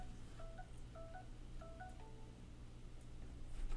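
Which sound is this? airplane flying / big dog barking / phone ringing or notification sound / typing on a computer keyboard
phone ringing or notification sound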